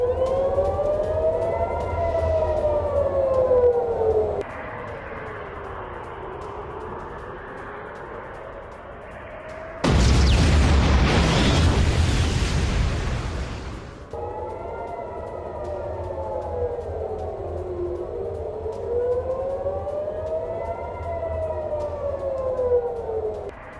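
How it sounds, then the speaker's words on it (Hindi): Air-raid warning sirens wail over Tel Aviv during a Hamas rocket attack, their rising and falling tones cycling steadily, broken midway by a few seconds of loud, broadband roaring blast noise before the siren wail resumes. "एक्शन में Israeli air defence system iron डोम ने हमास के रॉकेट अटैक को नाकाम किया"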